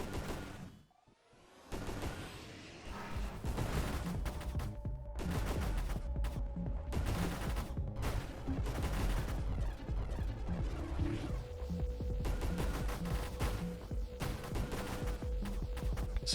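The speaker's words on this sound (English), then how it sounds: "I'm just going to take burst fire here" Sustained heavy gunfire in a video game: dense, continuous automatic shots with booming impacts running steadily throughout, loud and close, with no talk.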